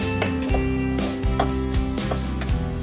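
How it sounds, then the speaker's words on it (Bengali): Garlic, turmeric and salt sizzle steadily in a hot pan as they are stirred, with a continuous crackling hiss and a few soft scraping pulses of stirring. The sound is close and persistent, and a sustained tonal hum runs underneath. "এইবার ভালো করে নেড়েচেড়ে ভেজে নিতে হবে"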